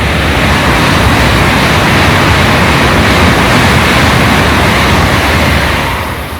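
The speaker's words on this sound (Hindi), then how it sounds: "ये गई एक और ट्रेन गई।" A Japanese bullet train rushes past near Mount Fuji at around 300 km/h, a loud, close, continuous broadband roar of wind and rail that holds steady for several seconds before beginning to fade.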